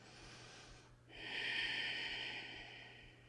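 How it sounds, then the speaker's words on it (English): One slow, deep yoga breath in a gentle beginner practice, a brief soft intake followed by a longer, louder airy exhale, close up with no talking. "We'll take 3 breaths here."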